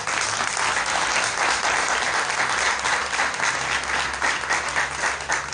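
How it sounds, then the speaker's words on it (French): A Catholic congregation applauds the newly confirmed faithful during a confirmation Mass at a parish church, sustained steady clapping from many hands filling the space evenly for several seconds, with no speech over it. "nous pouvons acclamer Dieu pour ces nouveaux confirmés"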